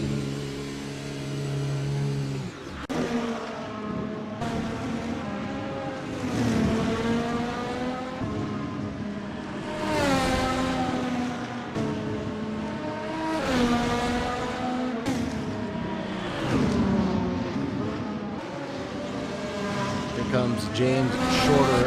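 A race car's engine in a racing video game at the Hungaroring, revving and shifting repeatedly through rising and falling pitch sweeps as it laps, with commentary talk over the top throughout.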